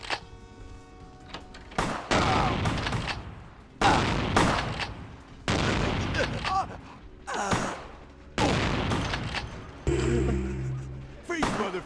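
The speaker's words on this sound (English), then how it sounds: "I want to try to use the shotgun" Shotgun blasts ring out in Vampire: The Masquerade, about six loud booms spaced roughly every one and a half seconds, each with a decaying tail, with a gasping, grunting voice between shots.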